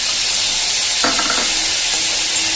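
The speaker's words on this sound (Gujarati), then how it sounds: "હવે આ જે કાંદો સમાર્યો છે ને એને નાખી દઈશું" Chopped onion drops into hot oil already frying whole cumin seeds, and a loud, steady sizzle surges as it hits the pan, with a bright crackle settling back into continuous hissing. No one speaks.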